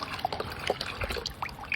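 Liquid is poured in short irregular trickles and drips, close and fairly quiet, with no talk.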